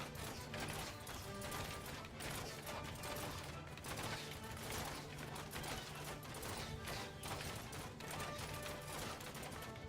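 Crossbowmen shooting at infantry in a Bannerlord battle, heard as a dense, continuous stream of overlapping mechanical clacks and impacts under a busy battlefield din, with no voices.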